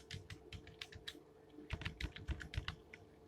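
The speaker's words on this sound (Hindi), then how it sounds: "पासवर्ड हमें टाइप करना है" A password is typed on a computer keyboard in quick irregular bursts of crisp, close key clicks, with a short pause near the middle before a second flurry of keystrokes.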